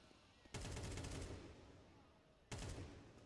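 Automatic gunfire in a Counter-Strike match: two rapid bursts of shots with crackling reports, one sustained and one shorter, over a background hum, with no talk.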